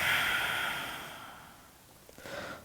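A person exhales audibly during yoga breathing, a long, airy breath that fades away over a couple of seconds, followed by a softer start of another breath, close and quiet.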